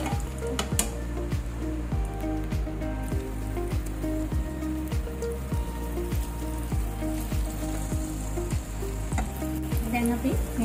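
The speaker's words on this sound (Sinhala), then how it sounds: "දැන් අපි මේක දෙපැත්තම ලස්සනට ෆ්‍රයි කරගමු." Flour-coated chicken pieces fry steadily in oil in a pan, a dense continuous sizzle and crackle, close and loud, with occasional stirring or turning clatters.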